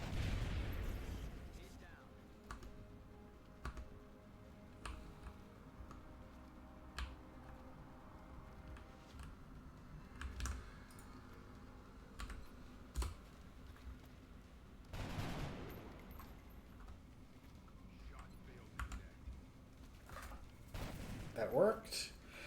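Scattered volleys of shots in the strategy video game Romance of the Three Kingdoms, sharp clicks and thumps in irregular clusters at moderate level, with someone talking over them.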